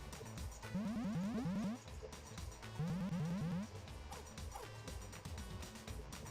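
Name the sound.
dog barking in pet video game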